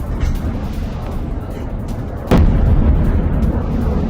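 A single explosion booms at the midpoint as an Iranian missile strikes near the Haifa refinery in Israel, a sharp broadband burst that leaves a raised, rumbling roar afterward over constant low background noise.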